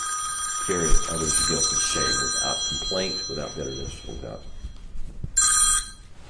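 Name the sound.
mobile phone ringing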